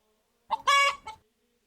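A Santa chicken toy gives a short, close clucking call of three quick squawks, the middle one longest, with silence before and after.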